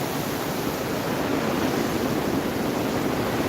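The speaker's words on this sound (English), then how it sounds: "That's the water splitting to go down to the American Falls." Heavy water at Niagara Falls rushes and splits toward the American Falls on an overcast day, a steady broad roar with no breaks, unbroken throughout.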